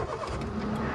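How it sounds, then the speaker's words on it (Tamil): A Hyundai Eon's three-cylinder petrol engine cranks and settles into a steady, close idle, a continuous low hum with a slight rattle filling the whole second. "வண்டி ஸ்டார்ட் பண்ணலாம் பாருங்கள் எப்படி இருக்குன்னு சவுண்டு."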